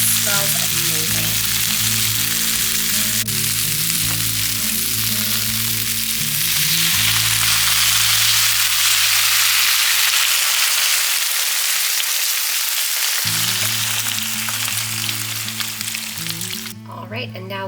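Butternut squash simmering in vegetable broth in a pot, a steady, close bubbling sizzle that runs throughout with faint stirring, over a low hum that cuts out partway through and returns.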